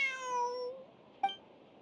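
A stray cat in Genshin Impact gives one drawn-out, falling meow, followed after a short pause by a brief, sharp second mew, both close and clear over near silence.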